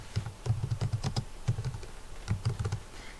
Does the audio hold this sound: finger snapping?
no